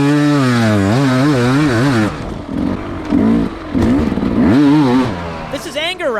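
An enduro dirt bike engine revs hard while riding through a hard enduro race, rising and falling wails as the throttle opens and closes, loud and near, with brief choppy bursts.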